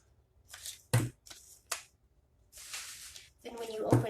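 Scissors snip paper for a children's picture frame in several short, crisp cuts and rustling handling sounds, close and fairly quiet, with a voice speaking intermittently between them.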